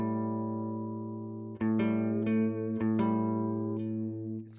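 A sustained guitar note a whole step below the root of a pentatonic scale rings out clearly alone, re-picked several times with sharp attacks over a steady, slightly buzzy tone.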